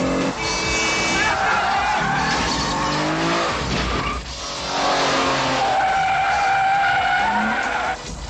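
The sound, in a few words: cars skidding in a film chase scene on Nice streets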